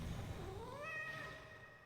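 A cat familiar in Hades 2 gives a single clear meow that rises and then trails off, close and fairly soft, over quiet low background noise.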